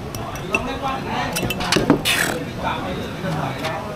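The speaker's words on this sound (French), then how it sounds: "Et puis là, des glaçons, c'est pas des petits glaçons, hein, c'est des gros glaçons." Big ice cubes clink and knock against a glass of Sao Vang beer in a few close, bright chinks and taps scattered over a soft background.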